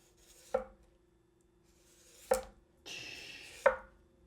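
A knife chops food on a cutting board in three sharp, well-spaced strokes, each a crisp knock against the wood, with a faint scrape between them and a steady low hum underneath.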